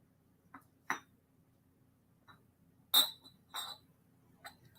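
An Indiana Glass Diamond Point pitcher and two glasses clink together in a few sharp, separate taps, spaced out over several seconds in an otherwise quiet room.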